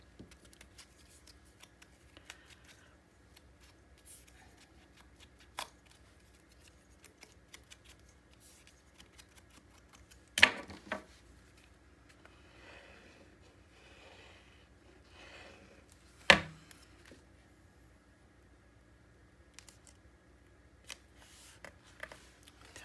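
Paper is cut for a mini album, heard as quiet, sparse snipping and rustling with two sharper, louder cuts standing out in an otherwise hushed room.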